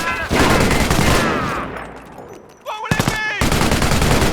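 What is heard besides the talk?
gunfire in Company of Heroes video game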